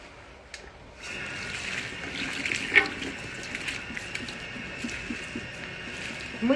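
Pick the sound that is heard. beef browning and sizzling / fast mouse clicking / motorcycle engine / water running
water running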